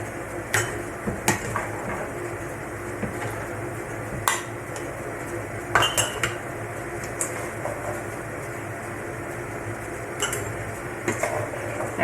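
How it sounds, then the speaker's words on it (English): Corn being scooped into glass canning jars for pressure canning: scattered clinks and taps of a scoop against glass, several separate knocks spread over a quiet background. "I'm going to fill each of these jars to about 3/4 full"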